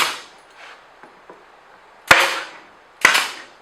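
A brad gun firing nails into cabinet components during assembly, two sharp loud metallic shots about a second apart, preceded by a few quieter knocks and handling sounds.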